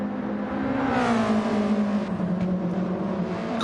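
A BMW race car engine in a racing video game screams near its limit, a loud sustained high-revving whine with shifting pitch and slight rises, heard close and alone.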